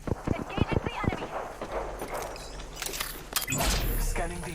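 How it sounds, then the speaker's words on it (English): Enemy footsteps in the Apex Legends battle royale arrive as a quick run of sharp thuds, joined by louder game effects and gunfire-like bursts and a player's voice talking over them. "I heard their footsteps below us."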